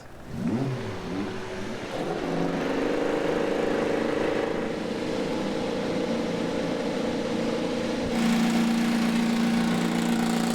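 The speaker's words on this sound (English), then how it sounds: "Drivers, start your engines!" IndyCar race car engines fire up at Road America, starters whirring before several engines catch and settle into a loud, droning idle with rising revs, layered together and continuing steadily.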